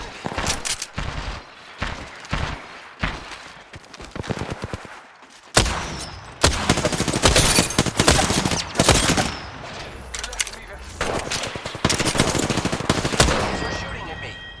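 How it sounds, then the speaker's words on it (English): Bursts of automatic gunfire and single shots crackle through a first-person battle royale shooter match, with rapid volleys and brief pauses between them, while a voice talks over the action. "They're shooting at me"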